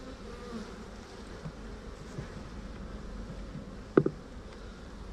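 A honeybee colony in an opened hive gives a steady, low, close buzz throughout, with one short knock near the end.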